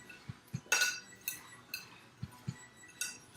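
A utensil stirs cheesecake crust crumbs together with sugar in a bowl, making a string of light clinks and scrapes at an irregular pace. The sounds are close and quiet, with no talking.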